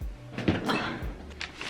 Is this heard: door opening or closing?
yes